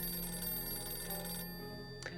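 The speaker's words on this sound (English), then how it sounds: "We can clearly hear a phone ringing outside." A telephone ringing in a video game's public phone booth outside a shelter, a steady electronic ring that cuts off partway through, followed by a short faint sound, with no talking.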